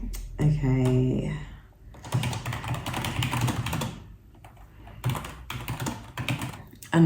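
Keys on a computer keyboard clatter in quick bursts with short pauses, close by, with a brief tonal sound near the start.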